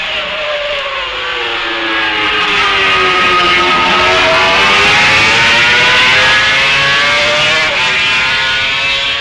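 Yamaha racing motorcycles at the 1965 Isle of Man TT, last lap near Quarter Bridge, scream past in a loud, sustained engine wail whose pitch bends down and back up as the machines pass close by.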